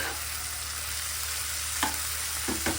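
Paneer being stirred with turmeric in a hot frying pan, a steady soft sizzle with a few scraping spatula strokes near the end.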